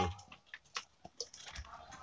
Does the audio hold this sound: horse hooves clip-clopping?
no